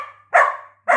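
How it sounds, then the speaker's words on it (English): Suki, a pet dog, lets out two sharp, close barks in quick succession, the first trailing off briefly before the second starts. "Barks at me when I won't throw her ball"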